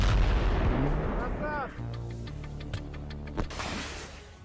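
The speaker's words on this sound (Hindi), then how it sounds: "रिमोट का इस्तेमाल कर 50 मीटर की दूरी से ही इस टैंक को उड़ा दिया गया" A tank is destroyed by an anti-tank missile fired by remote control from 50 metres away. There is a heavy blast roar first, then a crackling, rumbling aftermath with scattered pops and a steady mechanical hum.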